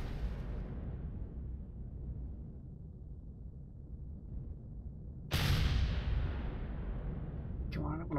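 A rocket explodes in the Empyrion video game: a loud, sharp blast hits suddenly about five seconds in and trails into a long, rumbling decay. Before it, a low, steady rumble runs under the game's background noise.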